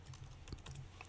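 Quick bursts of typing on a computer keyboard, several soft key clicks in an uneven rhythm, faint and close to the microphone.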